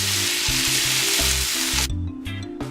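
Chicken breasts sizzle steadily in a hot pan, a loud continuous frying hiss that suddenly drops away near the end, leaving quieter crackles and a low hum underneath.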